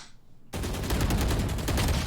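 Sudden onset of rapid, loud automatic gunfire in the video game Valorant after a quiet moment, continuing as a steady burst of closely spaced shots.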